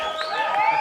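Studio audience on The Johnny Carson Show in 1986 cheering and clapping, a dense, steady wash of crowd noise with whoops rising over it.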